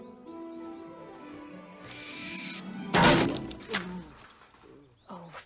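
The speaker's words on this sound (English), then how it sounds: "This poor old owl has lived its life and it is now struggling." An old, struggling owl named Errol from a Harry Potter film gives a few hoarse calls amid a busy film soundtrack, with a sharp loud burst near the middle and scattered fainter noises.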